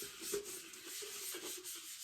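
Fabric sleeve wiped across a vinyl-wrapped tumbler to lift off fuzz, a continuous close hissing rub with a faint squeaky tone, steady and moderately quiet, with no voices.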